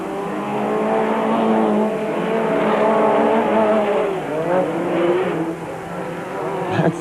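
Rally race cars, a Ford among them, climb a hill in a 1997 Super Series event, engines revving and droning steadily with shifting pitch as they pass, loud and continuous with no talk over them.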